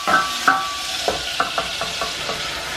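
A flour roux for béchamel sauce cooks in a pan with a soft sizzle, as a utensil taps and stirs against the pan in a series of sharp knocks, close and distinct with no talking.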